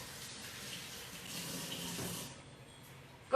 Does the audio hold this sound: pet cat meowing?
no